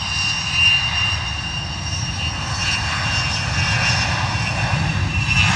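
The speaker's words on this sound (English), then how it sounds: "beautiful rumble there from the beautiful Bombardier" Deep, steady rumble of a Bombardier aircraft's engines at London Luton Airport in wet, windy weather, a continuous low roar with faint higher whine, unbroken for several seconds and free of voices.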